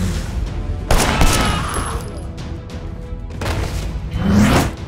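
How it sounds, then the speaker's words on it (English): Gunfire from the Sleeping Dogs video game, a few loud shots and bursts amid whooshing action noise and rumble, moderately loud throughout. "The shooting might not be the smoothest in this game"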